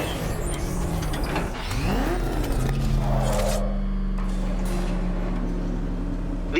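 A car engine runs steadily in the video game Batman: Arkham Knight, a sustained low drone with a rising rev sweep midway, continuous and fairly close throughout.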